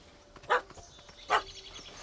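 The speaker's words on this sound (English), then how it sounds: "Don't know how to handle yappy little dogs?" A yappy little dog in The Witcher 3: Hearts of Stone lets out two sharp, close barks about a second apart, with faint whimpers between them.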